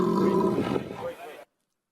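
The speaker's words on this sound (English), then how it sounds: "This is actually a giraffe." A giraffe gives a single low, droning call with a rough, roar-like texture that lasts just over a second and then cuts to silence.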